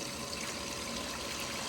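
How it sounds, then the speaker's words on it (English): Water gushes from a pump hose used for gold prospecting, a loud, steady broadband rush close by with no breaks. "Here comes the water."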